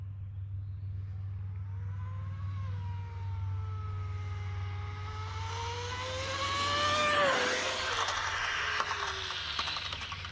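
A powerful RC car races along a Florida highway, its high-pitched motor whining upward in a rising sweep, then peaking into a loud jet-like roar and fading away over a steady low hum.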